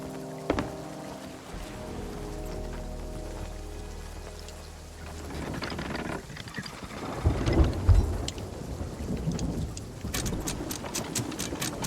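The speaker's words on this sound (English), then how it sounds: "Surprising the storm's kind of come back to this place." A thunderstorm with rain in the Sea of Thieves pirate game: heavy rain hiss and wind with deep rolling thunder rumbles building in the middle, plus scattered sharp crackling strikes toward the end.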